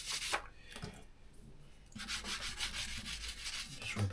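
Glue is rubbed by hand into a book spine during a bible restoration, giving a soft, steady scuffing and rubbing close up in repeated strokes that grow a little louder partway through, with no talk.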